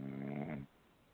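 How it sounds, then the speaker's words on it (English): One loud, deep snore from someone fast asleep, a single rumbling intake that stops abruptly partway through, leaving quiet room noise. "I can hear him snoring, Theresa"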